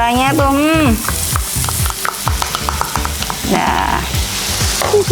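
Spice paste of shallot, garlic, candlenut and pepper hits hot oil for soto Betawi, giving a steady close sizzle with repeated stirring scrapes. A brief voice sounds at the start.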